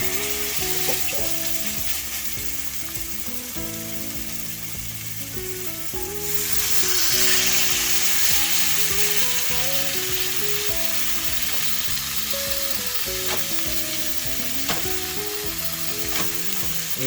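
A pork chop sizzles in hot oil in a pan, a dense, steady crackling hiss that jumps louder when it hits the oil and keeps going, with faint background music underneath.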